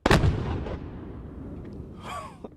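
A cannon at a Battle of Mobile Bay reenactment fires a 1.5-pound blank powder charge, one loud, close boom at the start that rolls away into a fading rumble, followed by a faint sound near the end.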